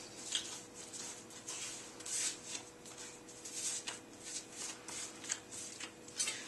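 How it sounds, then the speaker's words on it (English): Pretzel bun dough is rolled out on a floured board, giving quiet, rhythmic rubbing and soft swishing strokes that repeat roughly every half second, close and faint. "I'm going to roll this out on here so I get a nice long piece of dough."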